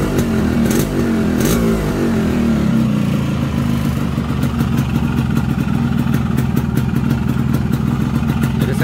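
A Yamaha RX King two-stroke motorcycle engine revs loud and close, with a steady rough, rattly drone that climbs as the throttle opens and continues without pause.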